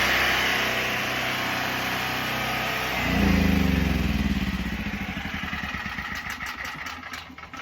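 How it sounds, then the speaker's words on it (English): A portable gasoline generator roars after being pull-started in winter, a loud steady hum that jumps up as the engine catches, then settles into a rapid, throbbing idle close by. "generator's running."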